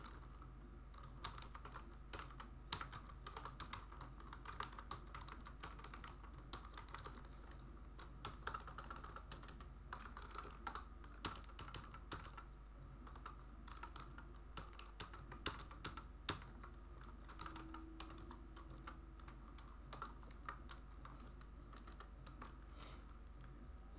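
Continuous typing of C code on a computer keyboard, with a steady run of close, crisp key clicks and occasional louder strokes for about twenty seconds, no talking.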